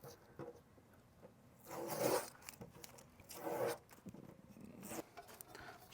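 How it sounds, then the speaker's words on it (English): Tape layer being peeled off a portable AC unit exhaust fitting inside a bus, heard as two or three scratchy, zipper-like tearing rips of moderate loudness with quieter rubbing handling noise in between. "Maybe we should take off this layer of tape while we can."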